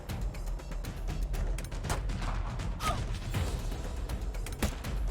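Video-game gunfire in a melee fight, several sharp cracking shots scattered irregularly over clashing, whooshing combat effects and a dense background, loud and close without speech.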